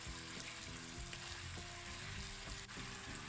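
Stir-frying in a wok after salt, oyster sauce and soy sauce go in, a steady faint sizzle with light intermittent stirring and scraping throughout.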